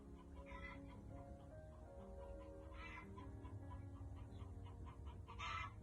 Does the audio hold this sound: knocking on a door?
no